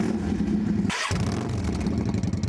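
Motorcycles pull away under police escort early in the morning at the start of a group ride, their engines droning and revving steadily, with a brief surge of a nearby bike passing close.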